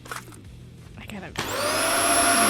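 A video game vacuum in Kill it with Fire 2 starts up partway through after some scattered clatter and a voice, then holds a loud, steady whirring hum with a high whine to the end.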